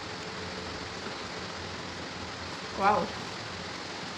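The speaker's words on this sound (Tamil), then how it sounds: "ரொம்ப மழை பெய்யுது மக்களே" Heavy rain pours steadily throughout as a dense, constant hiss, with a brief voice exclaiming partway through.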